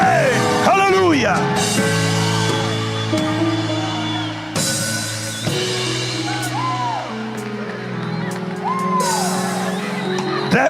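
A Spanish-speaking church congregation shouts amen and hallelujah in loud overlapping bursts and whoops, while a preacher's amplified voice and live music carry on beneath the crowd.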